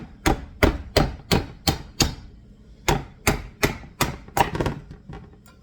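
A knife chops through an acorn squash in a steady run of loud, sharp, close strikes, about a dozen in all, with one short pause partway through and no talking.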